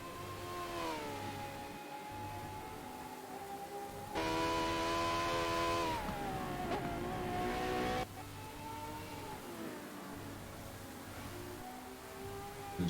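A Ferrari hypercar races on wet Silverstone in a racing video game, its engine droning steadily with pitch changes through gear shifts and a louder stretch in the middle, with no talk.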